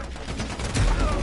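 Gunfire in the Warzone video game: a quick, heavy burst of shots with a deep rumbling thump swelling at the end, loud and close, with no talking.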